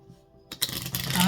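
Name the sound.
tarot cards being shuffled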